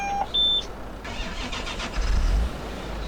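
A tractor engine cranks and catches after a few short electronic beeps, then runs at a rough, rumbling idle close by with a brief surge in revs, and no one speaks.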